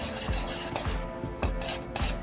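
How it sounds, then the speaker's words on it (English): An oat mixture for vegan breakfast sausage being stirred in a pot, a close, rhythmic scraping and rubbing with roughly one stroke every half second, with no talking. "we're going to stir all this in and you'll see it get thick real quick"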